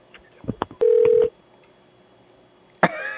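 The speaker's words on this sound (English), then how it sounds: "Dean, is that your phone?" Phone tones come through a call line: a short run of keypad beeps, one sustained tone, then a sharp electronic burst after a pause.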